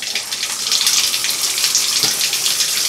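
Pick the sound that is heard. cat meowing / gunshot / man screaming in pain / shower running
shower running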